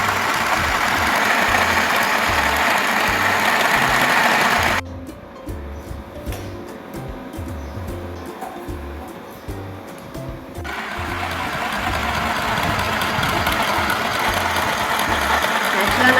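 A compact mini sewing machine switches on and runs, a steady mechanical whir and rapid knocking hum that drops away for several seconds mid-way, then resumes at a similar level.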